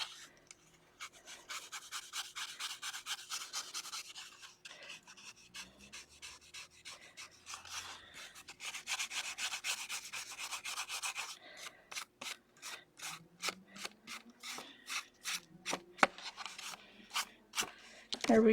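A handmade brush rubs and scratches over a drawing surface in repeated strokes, some slow sweeps and some rapid short scrapes, up close, with a voice speaking at times in between.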